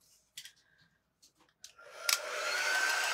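A hair dryer blows steadily to dry glue on a patterned planter, starting after a few faint clicks and shuffles and then running loud and continuous to the end.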